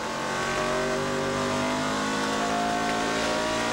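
Onboard roar of a Chevrolet NASCAR Craftsman Truck Series race truck at the Milwaukee Mile in 1999, a loud, continuous, steady engine drone with layered harmonic tones and no talk.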